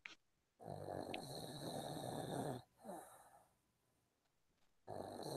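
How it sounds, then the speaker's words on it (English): A man snoring nearby in a room, with long rasping snores separated by a short snort and a quiet pause before the next loud snore begins. "He's snoring."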